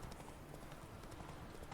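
Wild horses' hooves clip-clop in a steady, overlapping patter of many hoofbeats in the Witcher 3 video game, faint and moderately distant, with no talking.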